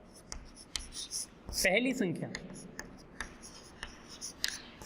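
Chalk writing an answer on a classroom board during a Class 8 maths lesson, with a run of short scratchy strokes and taps while a teacher speaks briefly in the middle.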